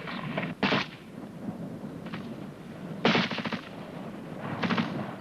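Enemy gunfire in a 1971 infantry training film on section fire and maneuver: loud bursts of cracking shots with a thumping report, several separate volleys spaced over a few seconds, with no talk.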